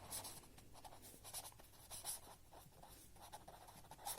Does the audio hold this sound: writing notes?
yes